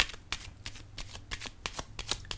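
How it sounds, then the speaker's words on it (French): Tarot cards handled and laid down on a surface, a quick series of crisp papery snaps and riffles, close and fairly loud, with no voices. "Je vais déposer une carte ici."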